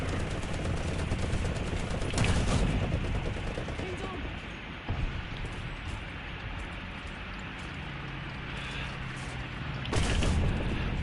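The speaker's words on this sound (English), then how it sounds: "I might be able to machine gun him to death." Machine gun fire in the War Thunder video game, with bursts of rapid gunfire and heavier booms over a continuous engine rumble.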